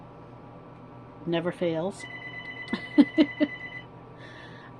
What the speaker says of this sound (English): Apologize for the phone ringing.